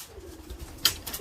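A racing pigeon coos softly back at the loft after a young bird race, a low muffled murmur with a brief sharper call near the end, fairly quiet and close.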